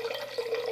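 Berkey-filtered water pouring into a pitcher, a brief, steady, close trickle.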